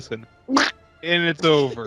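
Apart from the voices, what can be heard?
duck quack sound effect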